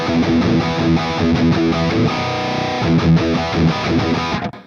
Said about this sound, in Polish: Gdzieś tu się zamyka i overdrive, przester.